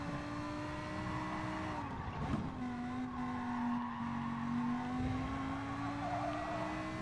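Racing car engine in the GT Sport video game, a Lamborghini or Viper on track, a steady droning whine that holds and shifts pitch with gear changes, loud and continuous with no talk.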